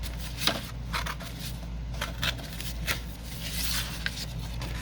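Paper card stock for a triple pocket foldout tears in several short, crisp ripping bursts spread over a few seconds, close and fairly quiet against a low steady hum.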